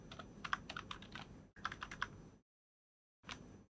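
Quick bursts of keystrokes on a computer keyboard while entering Python plotting code, clattering in two close runs, then a pause of silence before a short final flurry.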